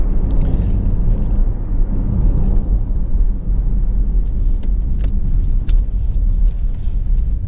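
A Honda CR-V 1.6 i-DTEC SR five-door on the move, with a steady, loud low engine and road rumble running throughout and no voices.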